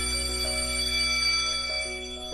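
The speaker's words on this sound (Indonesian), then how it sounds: "Salah satu contoh bunyi kuat di sekitar kita yaitu adalah bunyi bel sekolah" A school bell rings as a steady, sustained electric tone, loud and continuous throughout with no voices.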